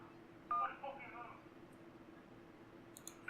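Keypad button tones from a phone in the 911 Operator video game: a couple of short beeps early on, then a faint pair near the end, over a low steady hum with quiet background speech.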